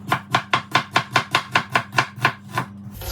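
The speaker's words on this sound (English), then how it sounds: "I'm going to work my knife around the onion." A knife slices through an onion on a cutting board in a brisk, even rhythm of about a dozen crisp cuts, close and clear with no talking.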